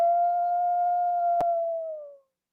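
A single wolf howl holds one long, steady, clear tone, close and prominent, with a sharp click partway through before it fades away into silence.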